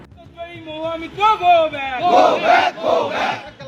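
A crowd gathered outside chants slogans in unison, rising and falling in loud, rhythmic shouts that swell into a dense roar of many voices.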